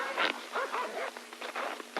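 Dogs give quick, close yips and whimpering barks in a short, irregular burst, with no talking.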